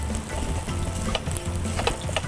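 Fried rice for nasi goreng pressed down and frying in a pan, a dense close sizzle broken by repeated clattering taps and scrapes of a utensil pressing the rice.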